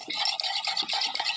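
Mahua being mashed with added water while cooking gives a quick series of wet, squelching strokes, steady and close, with no talk.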